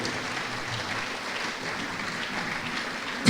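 A congregation applauds steadily at a church service, a dense, continuous wash of clapping from many hands that holds at an even level throughout, rising slightly at the very end.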